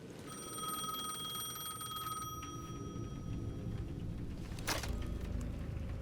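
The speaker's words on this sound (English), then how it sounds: "The payphone at the edge of the plaza was ringing again." A payphone rings in the video game Alan Wake II. The ringing is a steady, bright electronic tone that lasts a couple of seconds over low, rumbling game ambience. A sharp burst of noise follows later.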